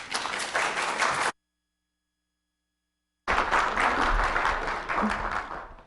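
A lecture audience applauds to welcome the speaker, with dense clapping for about a second. The sound cuts to silence, then a second sustained round of applause follows and tapers off.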